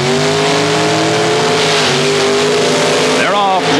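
Drag race cars at the 1984 ET Superstakes hold a loud, steady engine roar near the line before revving up at the launch, with a commentator talking over the din.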